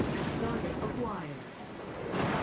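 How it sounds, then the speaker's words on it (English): Missiles pelt a mech in MechWarrior 5: Mercenaries, heard as rumbling impact booms and a low rolling roar with a swell at the end. Game voices and talk sit over it. "Just getting pelted with missiles."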